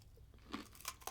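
Buc-ee's classic peanut brittle crunches under a few close bites and chews, with sharp snaps spread over about a second.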